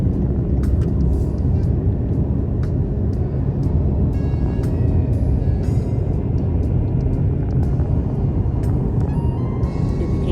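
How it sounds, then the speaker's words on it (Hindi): Deep, loud, continuous rumble of airplanes near an airport, blending with nearby road traffic, with no speech over it. "यहाँ पर से जहाज़ जाते हैं, जहाज़ आते हैं"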